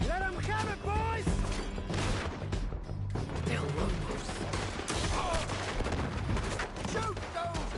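Shootout gunfire in Red Dead Redemption 2, a dense, continuous clatter of rapid gunshots and impacts with mechanical clicks, loud and close, while an excited voice shouts over the opening.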